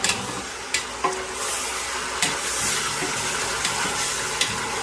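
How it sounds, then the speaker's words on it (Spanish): Beef sears in a pan with a steady close sizzle, broken by several sharp clinks and scrapes as the pieces are stirred and turned over. "Vamos a mover la carne."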